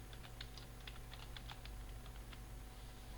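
Quick, uneven bursts of keystrokes on a computer keyboard as a title is typed into a PowerPoint slide, light clicks in short flurries with brief pauses, close and fairly quiet over a steady low hum.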